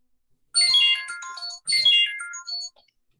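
Phone ringtone playing two bright melodic bursts separated by a short pause, clear and close against near silence.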